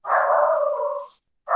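A small dog barks in one long, loud, whining yelp that trails off, followed by the start of another bark, with no talking.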